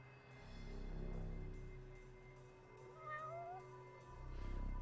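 A cat meows from somewhere hidden in a video game scene, a few short calls rising over steady game ambience and background hum.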